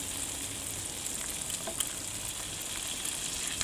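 A couple of cracked eggs fry in a hot pan, sizzling steadily with faint crackles and pops, close and unbroken, with no talking.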